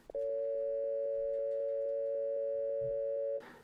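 After a phone call is hung up, a steady electronic telephone tone sounds clearly and continuously for over three seconds, then is cut off by a brief burst of noise.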